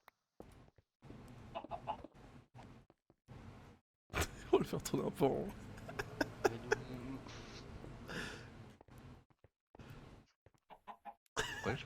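Video-game chicken clucking in repeated bursts, mixed with someone speaking French over it.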